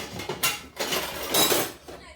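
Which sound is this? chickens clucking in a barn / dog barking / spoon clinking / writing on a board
spoon clinking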